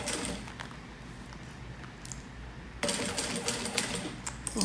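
A straight sewing machine stitches a wallet in a steady, fast mechanical whir, getting louder partway through, close by with no talk.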